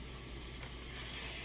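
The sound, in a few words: food sizzling in frying grease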